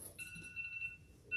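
A phone alarm sounding as a medicine reminder during a city council meeting, a steady electronic tone that holds for about a second, breaks off briefly and then starts again, faint in a quiet room.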